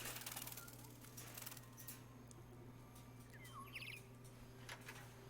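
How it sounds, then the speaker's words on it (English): Birdsong switched on in the video game Detroit: Become Human chirps in short, faint trills over a steady ambient hum, with a few brighter tweets rising midway. "Oh, you actually turn the birds on."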